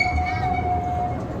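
A small zoo train rolls toward a station, giving a loud steady rumble with a sustained metallic ringing squeal from the wheels.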